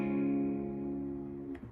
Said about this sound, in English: You're now barring the 4th fret with your pointer finger,